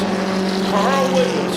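Mini stock race cars roar around the Waterford Speedbowl oval in a steady, loud engine drone with shifting pitch as the pack passes.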